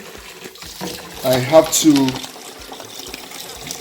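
Frozen shrimp rinsed under a running hot-water tap in a kitchen, a brief surge of splashing flow over a steady background hiss, with someone talking throughout.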